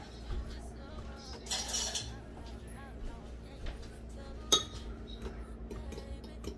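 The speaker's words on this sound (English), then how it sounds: "And I'm gonna mix it with a fork." A fork clinks and scrapes in a dish while rib sauce is mixed for a slab of barbecue ribs, light irregular metallic taps and swishes at close range.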